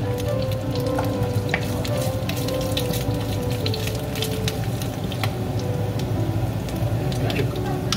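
Garlic frying in pork's own rendered fat makes a steady, close sizzle with scattered crackles and pops throughout.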